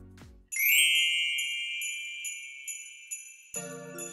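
A bright chime rings out with a quick metallic ding and a sustained tinkling tone that fades. A second soft chord strikes near the end. No voices are present.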